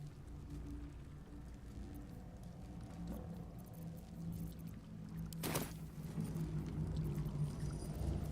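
Water is thrown in the fantasy role-playing video game Baldur's Gate 3, making one sudden, rushing splash midway through. The splash rises above a steady low game ambience and drone.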